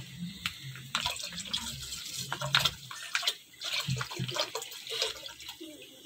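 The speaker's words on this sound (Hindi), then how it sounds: "ये दूध का पैकेट हम इसमें मिक्स कर रहे हैं।" Packet milk pours into a custard pot in a kitchen, an uneven liquid splashing and gurgling that comes in short surges, close and moderately quiet.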